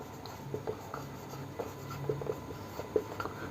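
Chalk or marker writing on a board during a Class 11 two-dimensional coordinate geometry lesson: quiet, irregular taps and short scratchy strokes in a soft, steady run, with no one talking.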